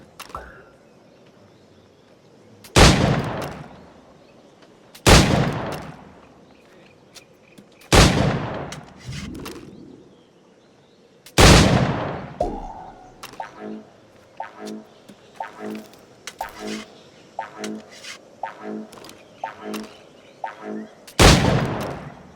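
Gunshots fired at targets in an Assassin's Creed game: five loud, sharp reports spaced a few seconds apart, with a quieter stretch of small rhythmic clicks and thumps in between, no talk.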